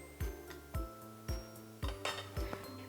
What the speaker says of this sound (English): I'm gonna add my meat back to my inner pot here